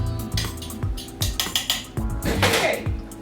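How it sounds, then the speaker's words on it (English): A fork scrapes and clinks against metal pastry blender strips, clearing out leftover pastry dough of flour, salt and butter in a home kitchen; a run of short, close scraping taps comes in a loose rhythm, with light rattling in between. "So you can just use your fork to get in between to get any leftover dough that's stuck in between."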